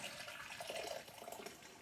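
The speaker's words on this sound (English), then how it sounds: "I'm just going to put 500 mils of hot water in there" Half a litre of freshly boiled water poured from a kettle into a container, a steady soft splashing hiss that swells slightly then settles, close and fairly quiet with no talking.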